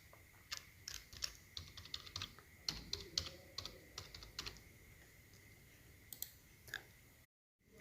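Fingers typing and clicking on a computer keyboard, irregular bursts of close, quiet keystrokes with short pauses between them, ending in a moment of silence.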